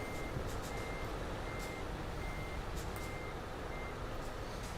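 A truck backing up in Euro Truck Simulator 2, its reversing alarm beeping in a steady repeating pattern over a constant low engine rumble, moderately quiet and unbroken.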